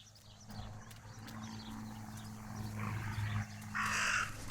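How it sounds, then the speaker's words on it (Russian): A raven in the game Martha Is Dead caws faintly in the distance, rising to a louder, clearer call near the end over a steady low background hum and ambient noise. "That raven is making a big fuss."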